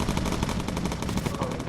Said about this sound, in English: Matron's starting to shoot